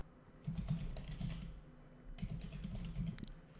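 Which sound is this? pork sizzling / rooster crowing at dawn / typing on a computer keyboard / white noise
typing on a computer keyboard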